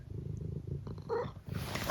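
Eric the cat purring close up, a soft, steady, low rumbling purr that continues unbroken for a couple of seconds.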